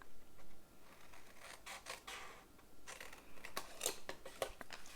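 Scissors cutting paper along a short score line for an Andes Mints shadow box craft: quiet, close snips and soft paper rustling in an uneven run, faint overall, with no talking.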